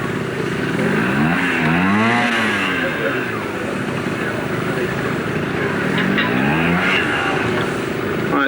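Trials motorcycle engine at an arena show, revving in repeated rising and falling bursts as the rider works the bike over obstacles, loud and close under crowd and arena noise throughout.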